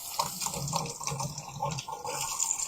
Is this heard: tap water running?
yes